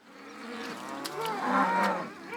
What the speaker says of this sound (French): Sébastien élève des vaches laitières.